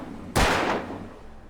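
A single sharp gunshot fired in the Alan Wake video game, a loud sudden blast with a short decaying tail and no voices.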